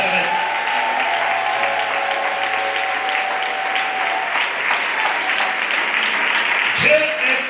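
A church congregation claps and cheers loudly for Jesus Christ, a steady dense wash of applause and crowd noise that runs the whole time, with a voice briefly rising over it near the end.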